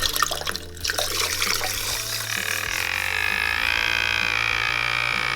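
A Stylpro makeup-brush cleaning machine spins a brush in water, giving a continuous splashing, churning swish with a steady whir underneath, close and fairly loud.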